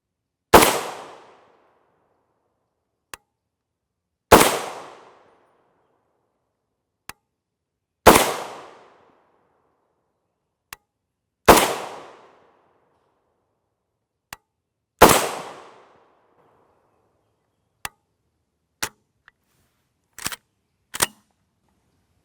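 An M&M Industries M10X rifle firing 7.62x39mm 124gr FMJ rounds: five loud, evenly spaced gunshots ring out with long decaying echoes, separated by faint clicks and small metallic knocks.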